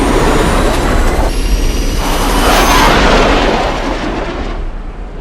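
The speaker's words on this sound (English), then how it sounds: "Engines up!" Spacecraft engines in Interstellar roar loudly as a dense, steady, broadband rumble that holds for several seconds, then eases slightly toward the end.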